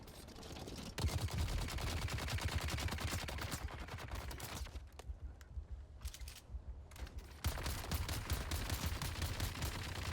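Rapid gunfire from the video game Dune: Awakening, dense volleys of shots rattling steadily, briefly thinning to scattered bursts midway before resuming at full intensity.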